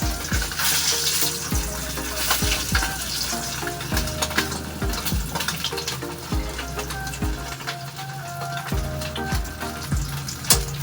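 Milkfish frying in a pan, with a steady close sizzle and crackle throughout and intermittent clinks and scraping of utensils, burning and smoking as it cooks.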